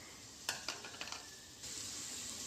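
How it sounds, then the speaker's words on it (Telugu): Chopped onions and green chilies dropped into a little hot oil in a pan, a few clattering knocks and stirring scrapes followed by a steady bright sizzle, close with no voices. "ఉల్లిగడ్డలు వేసేస్తున్నాను ఇందులో పచ్చిమిరపకాయలు కూడా వేసేస్తున్నాను"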